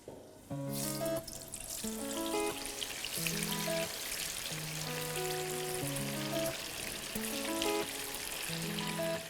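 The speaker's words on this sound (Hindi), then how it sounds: "अब आ जाओ पनीर को फ्राई करने पे" Paneer fries in hot oil with a steady, hissing sizzle that starts abruptly and carries on under loud, melodic background music.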